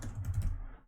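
Brief burst of quick keystrokes on a computer keyboard while entering a queue name in a web management interface, close and fairly soft, fading out at the end.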